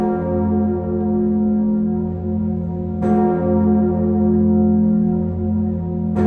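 Notre-Dame cathedral's great 13-ton bell in Paris, tuned to F sharp, rings with a deep sustained hum and rich overtones, with fresh strikes about three seconds apart over the lingering resonance, loud and unaccompanied.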